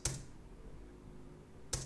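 Two sharp clacks of a computer keyboard space bar, one at the start and one near the end, with quiet room tone between them.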